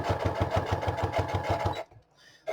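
A sewing machine stitches across a file folder pocket at a steady rapid pulse, running continuously for nearly two seconds before stopping and starting again briefly.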